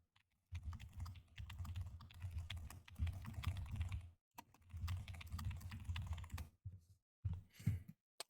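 Rapid clattering keystrokes on a computer keyboard, typed in bursts with brief pauses between them, close and fairly quiet.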